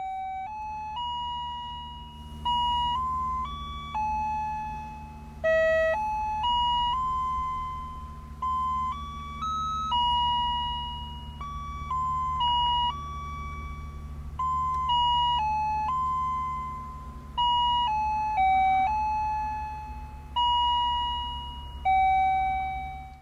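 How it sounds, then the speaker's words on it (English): A car's gauge cluster chimes out a melody on shutdown, a bright electronic tune of clear stepped notes repeating in short phrases over a steady low hum, loud and close, with no talk. "The gauge cluster just plays that every time you turn off the car."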